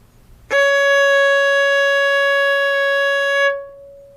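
Violin sounding C sharp with the second finger on the A string, one steady bowed note held for about three seconds, close and clear, then released with a short ring.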